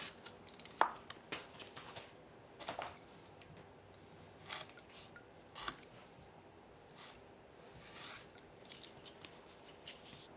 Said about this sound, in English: Take your time and do 1 to 2 passes to cut the leather